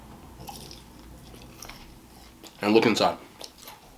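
Someone bites into a TGI Friday's Nashville hot donut chicken sandwich, producing one loud, close crunching bite lasting about half a second, with a voice speaking quietly before it.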